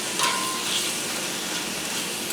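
Pork sizzles and fries steadily in a hot pan for Hungarian-style pork chow mein, a continuous close crackling hiss with a brief clink near the start and no talking.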